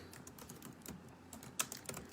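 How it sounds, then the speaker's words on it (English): Keys clatter in a quiet, close run of typing on a computer keyboard, with uneven taps and one louder strike near the end, and no talking. "Let me type that out."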